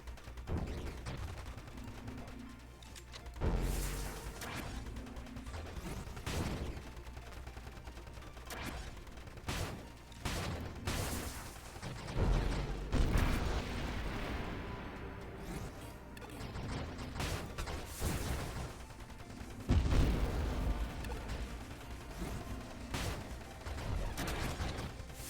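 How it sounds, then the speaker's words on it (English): Ship weapons in the space shooter Nova Drift fire off in dense, steady volleys of sharp bursts over layered game noise, with heavier booming hits at intervals throughout. "Some things firing off our weapon."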